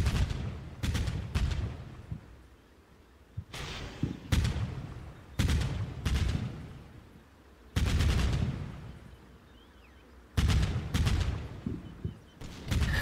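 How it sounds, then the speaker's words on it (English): A 30mm autocannon fires in Combat Mission Black Sea, loud sharp bursts of several rapid rounds arriving in clusters with short gaps between, each volley trailing off into a distant rumbling echo. "I get them to open up fire on the tree line as well as some of the buildings"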